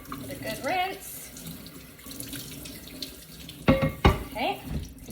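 Tap water runs into a sink while a stoneware pan is rinsed and turned under the stream, with hollow clunks of the pan against the basin and a person talking softly at times.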